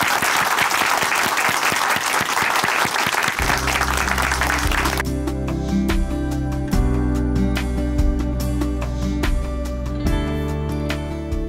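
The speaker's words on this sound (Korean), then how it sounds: "춘천 한마음교회 이용남 형제님 박수로 모시겠습니다" An audience in a church hall applauds loudly and continuously to welcome a speaker giving a testimony; after about three seconds the clapping gives way to sustained keyboard music.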